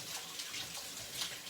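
Water runs in a steady, hissing stream at moderate volume, continuous throughout with slight surges and no speech.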